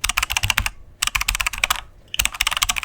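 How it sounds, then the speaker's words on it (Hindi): Fast bursts of clattering keystrokes on a computer keyboard come in three rapid runs separated by short pauses, close and crisp, with no voices. "अब ये जगह से हमारी टाइपिंग शुरू होती है"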